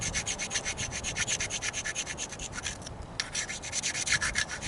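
An edge of Mookaite stone is ground against the corner of a sandstone grinding stone, a rhythmic scraping rasp of repeated strokes, close and fairly loud, with one brief pause midway.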